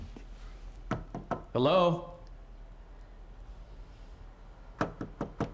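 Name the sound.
knocking on the men's room door in video game Alan Wake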